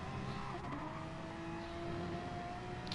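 A Porsche race car in a Bathurst racing video game, its engine giving a steady, distant drone throughout with no strong passes or revs, heard alone without talk.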